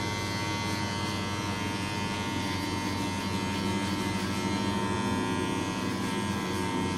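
Electric hair clippers buzz steadily while trimming hair on the user's own head against the grain, a close, continuous drone with slight shifts in pitch as the blades move through the hair.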